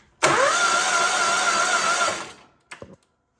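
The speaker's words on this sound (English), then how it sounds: "Turn the key, it just spins over." A Kawasaki 17 hp mower engine with no compression cranks over on the starter for about two seconds, a fast, even whirring drone that stops abruptly, followed by a couple of brief clunks, close by with no talking.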